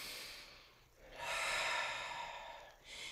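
One deep breath close up, drawn in slowly and let out in a long, airy exhale, with a soft sniff at the start and a short breath again at the end.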